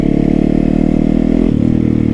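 A motorcycle engine runs loud and close with a throbbing, steady rev that drops in pitch partway through, heard with no voices over it.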